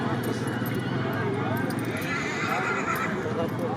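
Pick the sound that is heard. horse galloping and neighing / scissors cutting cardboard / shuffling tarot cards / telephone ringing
horse galloping and neighing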